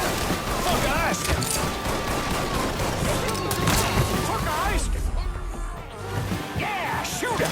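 Gunfire in the Mafia III video game: dense, continuous volleys of shots and impacts crackle through the whole stretch, with shouting voices mixed in over the battle.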